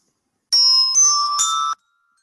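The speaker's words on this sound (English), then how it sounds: "let's try the xylophone" Three quick struck metal bars in a primary-school science lesson, each note ringing briefly at a slightly different pitch before falling silent, close and clear with no talk over them.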